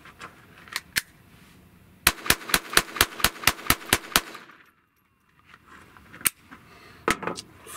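A Glock G44 pistol firing CCI standard velocity ammunition at a range, a quick string of about ten sharp, evenly spaced shots after a few single ones, then a pause and more scattered shots.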